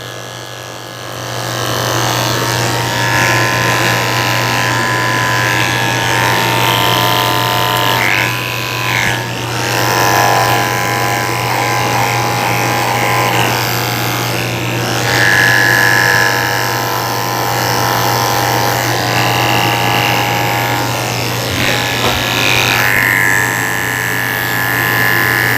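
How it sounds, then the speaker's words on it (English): Electric clippers fitted with a 30 blade buzz steadily and loudly while shaving the hair inside a Miniature Schnauzer's ears at a grooming session, with a constant hum and small shifts in pitch as the blade moves. "I'm also going to come back and shave the inside of his ears with a 30 blade"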